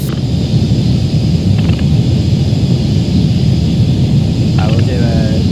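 Aircraft engines roar during takeoff as a loud, steady broadband rumble in a cockpit, with faint radio-like voices breaking through briefly under the noise.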